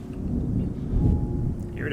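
A thunderstorm in the video game Terra Nil, deep rolling thunder swelling near the middle over a bed of steady rain, fairly loud and close, with no talking.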